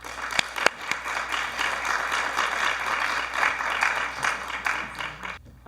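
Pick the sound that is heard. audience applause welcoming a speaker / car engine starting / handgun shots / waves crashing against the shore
audience applause welcoming a speaker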